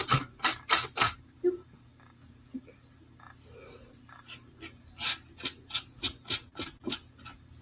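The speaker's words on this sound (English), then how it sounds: "And I'm going to sand down that." A craft piece is sanded by hand in bursts of quick rasping strokes, close up, with a quieter pause between two rhythmic runs.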